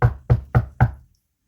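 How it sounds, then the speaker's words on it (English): Four firm knocks on a door in an even rhythm, close and loud, alone with a short decay after the last knock. "You finish getting dressed when there's a knock at the door."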